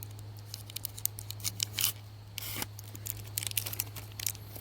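Scissors or a small blade slicing through the plastic packaging of a Russian military ration pack, crisp intermittent snips and tearing crinkles close up, with a steady low hum underneath and no talking.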